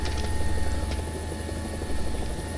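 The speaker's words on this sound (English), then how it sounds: "We just did an Immelman in a helicopter." In War Thunder, a helicopter's rotor and engine give a steady, loud, dense whirring roar with rapid blade chop throughout, no voices present.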